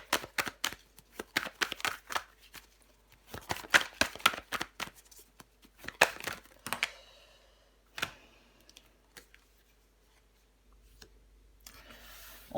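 Tarot cards handled and laid down over the Wheel of Fortune card, a run of crisp close slapping and shuffling snaps with short pauses, thinning out toward the end.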